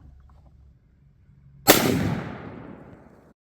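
A single loud, sharp shot from a CZ 600 Alpha rifle in 6.5 PRC firing a North Fork 140-grain semi-spitzer bullet, its crack trailing into a long, rolling echo that fades over about two seconds.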